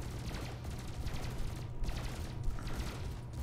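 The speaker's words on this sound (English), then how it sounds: "we're just going to start firing at him" Spaceship weapons in Elite Dangerous fire as a rapid, continuous stream of pulsing shots at a steady, fairly quiet level.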